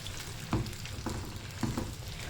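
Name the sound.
vegetables frying and being stirred in a pan for pickle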